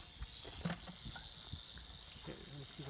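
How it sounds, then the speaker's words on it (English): Faint hissing from a pet snake in a desert campground, a steady high airy hiss beneath a voice speaking briefly nearby. "Oh, that's a pet snake."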